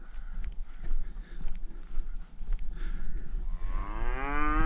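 A black and white cow lowing loudly in open countryside, a long drawn-out moo swelling near the end over steady wind and rustling, with faint shuffling footsteps earlier.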